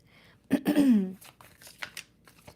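Tarot cards being shuffled by hand, a short burst of riffling and rustling followed by lighter scattered flicks of the deck, close and fairly quiet, with a brief throaty vocal noise near the start.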